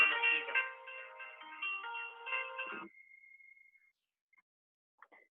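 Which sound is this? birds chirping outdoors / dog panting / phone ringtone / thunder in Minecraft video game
phone ringtone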